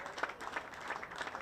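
A cricket crowd applauds the fastest T20I century in a Nepal versus Namibia match, a dense steady wash of clapping with no voices on top.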